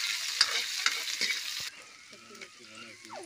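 Mustard oil frying and sizzling loudly in a pan, with a few clinks of stirring over the hiss; partway through the sizzle drops to a softer, steady crackle.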